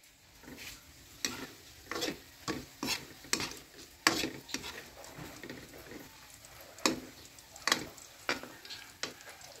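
Mini hotdogs fry in a pan with a soft sizzle, broken by repeated scraping stir strokes at an uneven, fairly quick rhythm, close and quiet, with no talk.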